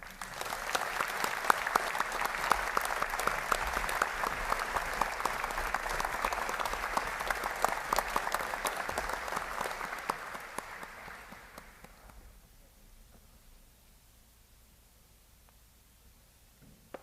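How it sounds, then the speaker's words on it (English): A large crowd gives a sustained round of applause for graduating midshipmen at a naval academy indoctrination graduation ceremony, steady and full for about ten seconds before fading away into near silence. "Please join me in a round of applause for these outstanding midshipmen"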